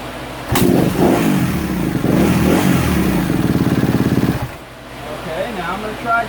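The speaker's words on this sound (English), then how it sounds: "Let's start her up again." A Kawasaki KX250F dirt bike engine cranks and fires, running loud and close with a rapid chattering pulse for several seconds before cutting out and dropping into quieter background noise.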